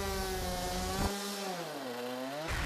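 Go-kart engines racing on a track at Collie, a loud, high buzzing whine that climbs and dips as the karts pass, with a sharp shift in pitch partway through.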